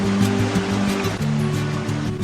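Fast, deep river rapids in the northern Manitoba wilderness rush steadily and loudly, a continuous broad roar of water with a low droning hum running underneath, and no talking.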